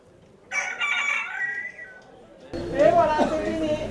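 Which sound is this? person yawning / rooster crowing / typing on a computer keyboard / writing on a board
rooster crowing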